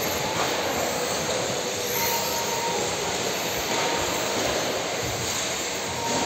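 A vehicle rushes past fast on a track in a steady, loud, broadband roar, with no talk.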